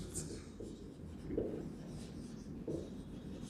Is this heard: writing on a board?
yes